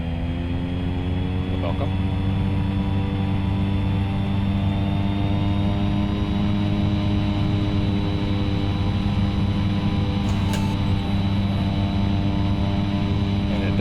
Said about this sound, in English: Do a nice roll and takeoff, yeah.